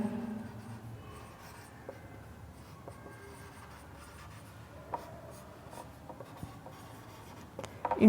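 Writing by hand on a board, a steady scratchy stroking with occasional sharper taps and clicks, quiet and close, without speech.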